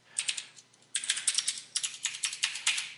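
Quick, uneven keystrokes clatter on a computer keyboard at close range, a short burst followed after a brief pause by steady bursts of typing, with no voices.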